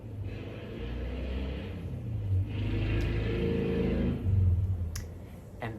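A car drives past outside, its engine a low rumble that swells and fades twice, heard alone from a moderate distance.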